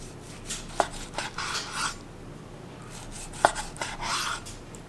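A knife cuts down the middle of a cooked steak on a board, with a few sharp taps and longer scraping slices in an uneven rhythm, close and moderately quiet with no talking.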